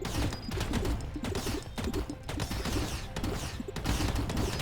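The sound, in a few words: missile weapon firing in a video game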